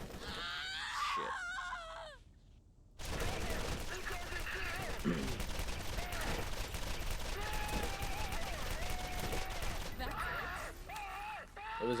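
Enemies fire guns in the Borderlands video game, dense continuous rattling shots and crackles for most of the stretch after a quieter start with bird-like calls and game sounds.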